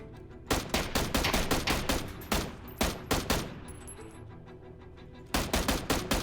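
Loud Fortnite gunfire crackles in rapid volleys, a dense burst followed by scattered single shots, a pause, then another quick string of shots, with no talking.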